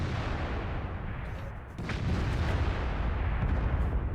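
A tank gun fires in the World of Tanks video game: one sharp blast near the middle, then a heavy rolling boom that fills the rest, over steady battlefield rumble.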